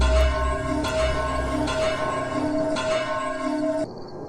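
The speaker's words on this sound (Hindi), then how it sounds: "9 बजने से पहले ही घंटा बज गया" A large bell rings over a village scene in an animated Hindi tale, its strikes repeating at a steady rhythm with a lingering hum, then cutting off abruptly near the end.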